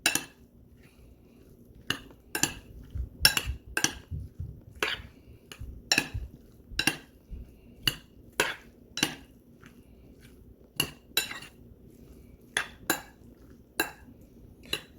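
A utensil scrapes and clinks against a bowl while seasoning is mixed into pork tortilla filling, sharp taps coming in an irregular rhythm every half second or so, close and fairly quiet, with no voices.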